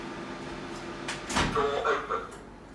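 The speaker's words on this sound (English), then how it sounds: "Door open." A kitchen door or cupboard is opened with a short wooden clunk and rattle midway, moderately close, over a faint background hum. Someone speaks nearby.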